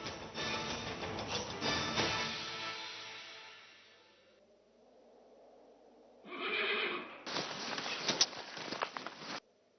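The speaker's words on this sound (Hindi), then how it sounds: "अब इस घोड़ी की नाल पर सिर्फ और सिर्फ खान बाबा के नाम की मोहर लगेगी।" A horse neighs loudly in a long whinny, then after a quiet stretch gives another burst of neighing mixed with clattering hoof sounds, up close.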